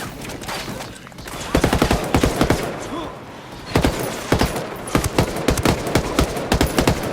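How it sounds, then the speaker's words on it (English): Bursts of automatic gunfire from Ghost Recon Wildlands, loud rapid volleys in two clusters separated by a brief lull, close and sharp, with little else audible. "Opening fire on these fuckers."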